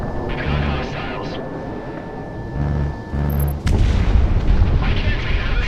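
Video game artillery fire: rumbling low booms and blasts, with a heavier hit partway through followed by sustained loud rumble, set against game radio chatter and battle noise.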